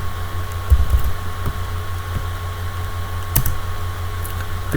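Keystrokes on a computer keyboard entering a chmod 755 command, a few soft clicks, one short cluster near the start and another later, over a steady fan hum with no talking.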